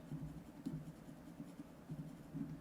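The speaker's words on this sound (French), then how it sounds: "je vais dessiner l'ombre ici" Pencil shading a shadow on paper in a drawing, soft rhythmic scratchy strokes close up and quiet, repeating back and forth steadily with no talking.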